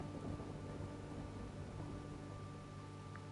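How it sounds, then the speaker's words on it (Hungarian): A heavy storm in the game Horizon Forbidden West, with a steady, faint wash of rain and a low rumble of thunder that runs unbroken throughout, with no voices. "Nagyon nagy vihar van itt."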